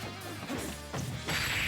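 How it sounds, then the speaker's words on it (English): A forward smash attack lands in a Super Smash Bros tournament match between Wii Fit Trainer and a Mii fighter: a few sharp, close crashing hits over constant game noise, with no talking. "Why we forward smashing there"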